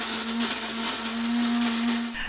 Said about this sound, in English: I hit the grinder